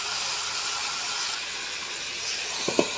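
Chicken pieces hit browned fried onions in a pan for chicken kosha, giving a steady, bright sizzling hiss throughout, with a couple of brief utensil knocks near the end.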